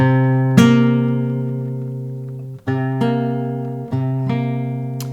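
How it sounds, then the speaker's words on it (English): Two guitar notes a minor seventh apart ring together, plucked and let sustain, repeated several times with short pauses between strums. "Minor seventh sounds like this."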